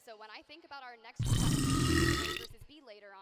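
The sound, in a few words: sneeze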